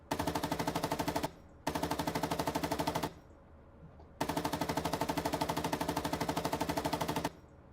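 A tank's coaxial machine gun fires in the PC combat game Gunner, HEAT, PC!: three long, rapid, evenly paced bursts separated by short pauses, loud and close.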